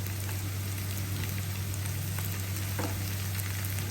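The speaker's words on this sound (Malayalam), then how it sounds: "നമുക്ക് ഇതിനകത്തോട്ട് ആ മാരിനേറ്റ് ചെയ്ത് വെച്ച ചെമ്മീൻ ഇട്ട് കൊടുക്കാം." Marinated prawns frying in melted butter with shallots and garlic, a dense continuous sizzle and crackle with a steady hum underneath and no talking.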